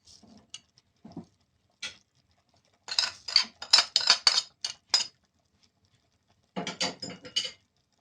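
A metal utensil scraping and clinking against a pot while stirring spaghetti sauce, coming in short bursts of rapid taps and scrapes separated by silent pauses, close and fairly crisp.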